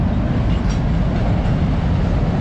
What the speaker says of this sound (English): it looks good while that train's passing by